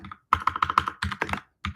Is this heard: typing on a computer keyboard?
yes